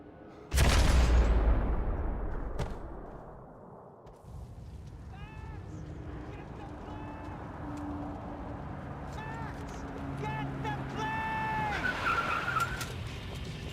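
Tyres skid and a car engine roars during a car chase in the video game Max Payne 3, with a loud crash-like burst at the start, then sustained squealing and engine noise under game voices and music.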